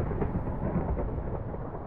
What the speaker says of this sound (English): This lightning, though.